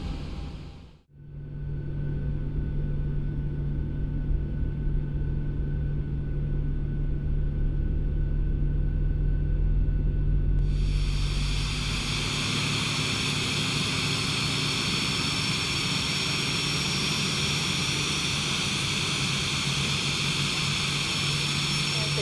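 Airliner jet engines idling steadily after start in the X-Plane 12 simulator, a continuous loud whine and rumble with a shift in tone partway through, and no other sound on top.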